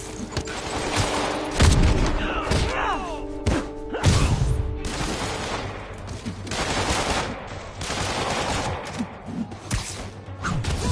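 Chaotic video game combat on PS4, bursts of gunfire and heavy impacts crashing through a busy mix of effects and music, loud and continuous, with occasional voices.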